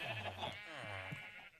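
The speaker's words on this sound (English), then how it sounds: "I'm being pushed around by sheep." Sheep bleat in Minecraft Skyblock, giving two drawn-out, wavering bleats close together at near range with no talking.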